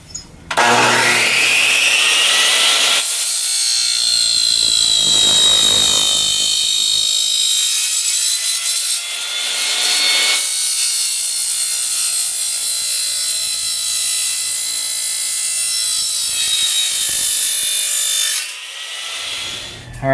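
Power saw fitted with a wood blade cutting through wood while a pocket door mount for a curved ceiling is built: a loud, sustained high-pitched whine and rasp, with brief dips between cuts and no talking.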